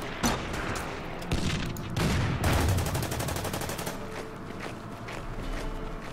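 A Panther tank in the strategy game Order of Battle fires, giving a loud shot with a rattling, mechanical burst and sustained battle noise continuing around it.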